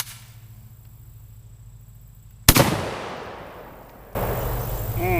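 A JTS M12AK shotgun fires one sharp, loud blast outdoors that rings out and decays, then a second report cuts in and sustains, close to the shooter.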